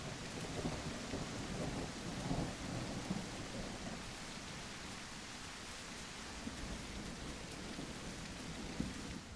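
Heavy rain and rolling thunder in a storm in the video game The Isle Evrima, a dense, constant roar of rainfall with low rumbles swelling underneath, no voices.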